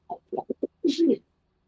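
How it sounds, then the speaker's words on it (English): A pet pigeon gives a short run of soft, low coos, four quick notes followed by a longer rolling coo, close to the microphone in an otherwise quiet room. "Nagi has pet pigeons"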